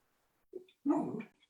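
A small dog gives a brief soft whine, then a longer, louder whimpering yelp close by, indoors, with near silence around it.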